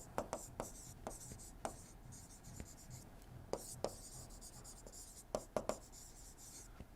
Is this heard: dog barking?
no